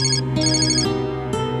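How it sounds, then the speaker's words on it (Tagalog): A phone ringtone plays alone, a loud, steady electronic melody repeating in short cycles with no talk over it. "Sir, nagre-ring yung phone niyo."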